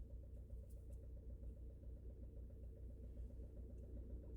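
A car idles and rumbles low and steady beside a parking spot, a muffled engine drone heard from inside or nearby, with no clear pull-away surge and no talking.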